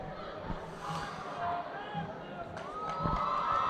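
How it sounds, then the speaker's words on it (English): High-school boys' basketball final crowd in a gym during a timeout, a steady murmur of voices and scattered cheers as cheerleaders work the stands, with occasional shouts and squeaks over the hubbub. "These are the Lynn English cheerleaders out there getting the crowd."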